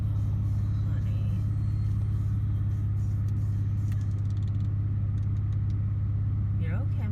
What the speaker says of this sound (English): let me turn off the car